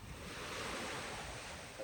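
Waves on a lake at Rusinga Island wash steadily against the shore, a continuous broad hiss of surf mixed with breezy wind buffeting the microphone.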